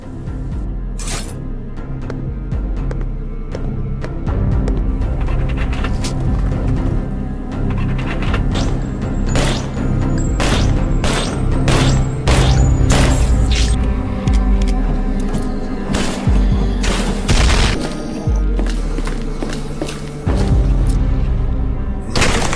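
Frantic shooting in the zombie game Bubblegum Zombie Hunter, with loud, dense gunfire, sharp impacts and booming explosions layered over a continuous game soundtrack for over twenty seconds.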